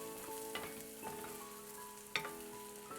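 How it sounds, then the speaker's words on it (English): Onions frying gently in olive oil, a steady soft sizzle running throughout with a few faint clinks from stirring, no voices. "We just want to keep them frying gently in all that olive oil."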